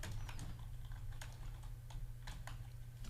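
Quick, light keystrokes on a computer keyboard in irregular bursts, faint and close, over a steady low electrical hum with no speech.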